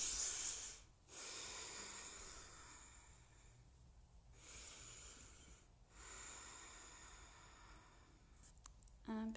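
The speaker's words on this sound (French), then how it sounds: "Et on respire ici," Deep yoga breathing while holding a warrior pose: slow, breathy inhales and exhales close to the mic, separated by short quiet pauses.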